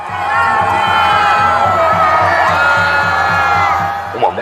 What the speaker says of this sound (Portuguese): multidão vai às ruas para comemorar a terceira vez do ex-metalúrgico no comando do país.